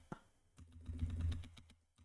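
Rapid burst of computer keyboard keys being hit, a dense cluster of clicks and clacks close up, swelling and then tapering off over about two seconds, with no talking.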